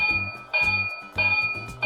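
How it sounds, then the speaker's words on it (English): Electronic bell of a Williams/Bachman B&O E7 model train engine, a fast repeating metallic ding in bursts roughly every half second over a steady hum, close and fairly loud, with no talking. "Now also the bell."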